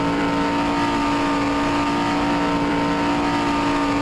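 A GT race car at Linas-Montlhéry holds a loud, steady, near engine drone at high revs, pinned against the rev limiter with no break throughout.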